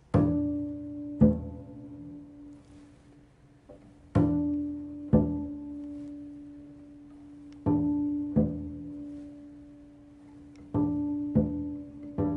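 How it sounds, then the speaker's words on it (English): Bowed double bass harmonics ring out in sustained notes, each starting with a bow attack, a harmonic D on the G string played with the fourth finger, with a matching higher octave tone layered in; no talking. "I can also play this D and match it up to the exact same octave."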